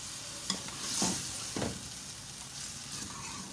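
Slit green chillies frying in oil in a pot for beef yakhni pulao, a soft, steady sizzle with a few sharp stirring clicks, fairly quiet and close, no voices.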